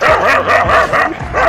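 Street dogs chasing a car bark in a rapid series of loud, close, overlapping woofs with yelping edges, with no talking.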